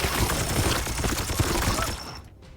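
Rapid, dense gunfire from the video game Chaos Gate, a sustained burst of overlapping shots that stays loud and busy for about two seconds before cutting off abruptly into near silence.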